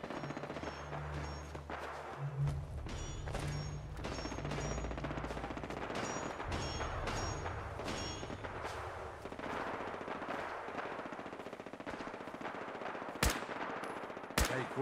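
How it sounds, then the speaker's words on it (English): Rapid machine-gun fire and scattered gunshots from a Fallout 4 survival-mode firefight, near-continuous bursts of popping shots with a couple of louder sharp cracks near the end, dense and sustained without speech. "You guys still shooting it up over there?"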